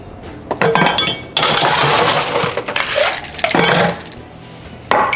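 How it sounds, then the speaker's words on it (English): Ice cubes crash and clink loudly into a glass mixing glass holding whisky, sweet vermouth and bitters for a Rob Roy, several clattering bursts over a few seconds. "Add ice."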